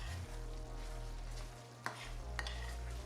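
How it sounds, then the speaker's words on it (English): Pasta is stirred and tossed through a pan with shrimp and oysters, a low, quiet sizzle under a steady hum, with a couple of sharp utensil clinks against the pan. "get our pasta in and mix it up"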